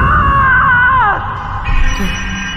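Ming Fei, a character in an animated fantasy drama, lets out a loud, sustained scream that wavers and then slides downward, followed by a noisy, rumbling background.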